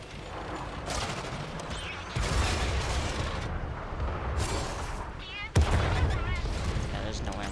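Rapid gunfire from a favored weapon in a fast-paced shooter game, with bursts of shots and impacts running throughout amid game effects.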